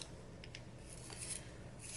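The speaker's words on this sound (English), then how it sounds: "I need to sharpen my pencil one more time." A pencil being sharpened during a coloring session: soft, close, rasping scrape strokes in a few short bursts, faint and dry with no talk.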